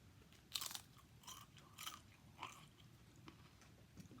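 Someone chews a bite of dip, with several close, crisp crunches spaced about half a second apart, then softer mouth sounds as the chewing slows.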